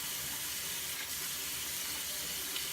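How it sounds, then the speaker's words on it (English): Water runs steadily from a sink tap while someone washes their face between shaving passes, a constant close hiss and splash with no pauses. "I'm just going to wash my face,"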